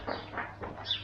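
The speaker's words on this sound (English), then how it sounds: "Birds nesting in the roof. Sounds quite nice." Birds nesting in the roof of a campsite toilet block give a few short chirps and a soft coo-like call, separate bursts at moderate distance, with no talking.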